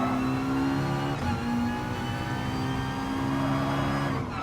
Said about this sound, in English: holding it in third gear before having to slam down into first for the hairpin ahead